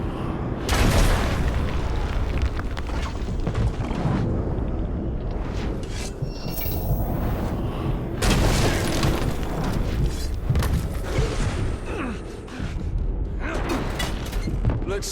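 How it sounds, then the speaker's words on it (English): Explosives are shot and burst during a siege-beast fight in Middle-earth: Shadow of War, bringing a dense run of loud booms and blasts over continuous battle noise that stays heavy and rumbling the whole time. "Shooting those explosives should subdue the beast."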